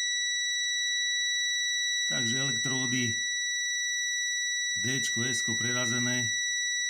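A multimeter beeps steadily while transistor electrodes are tested, giving a continuous high, thin tone that runs throughout as someone speaks over it in two short bursts.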